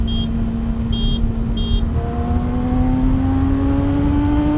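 A Yamaha motorcycle, ridden in 4th gear to pass a car, accelerates with a steadily rising engine whine over wind roar, alongside a few short high beeps early on.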